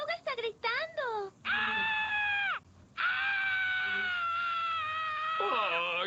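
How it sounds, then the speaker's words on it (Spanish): Cartoon caterpillar screaming, a long, shrill wailing cry with rising and falling pitch, broken by brief gaps, loud and close, with some earlier short yelps before the sustained scream. "¡Papá, la oruga está gritando!"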